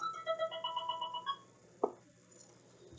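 A phone ringtone plays a repeating melodic chime for about a second and a half, then breaks off into a short buzz, with a faint click at the end and no talking.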